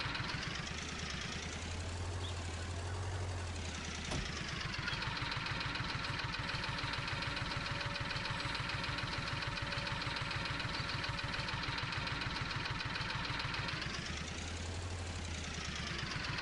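Small John Deere Gator utility vehicle engine in Farming Simulator 19, a steady mid-pitched idle that revs up and holds a higher drone before settling back to idle, close and continuous with no talking.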